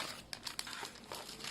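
A plastic bag crinkles and rustles quietly as it is handled, with a few sharper crackles among a soft, continuous crumpling.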